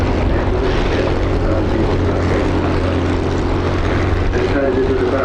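Hawker Hurricane fighters flying together in a Balbo formation over an air show, a steady, loud, droning piston-engine roar that fills the whole stretch without letup.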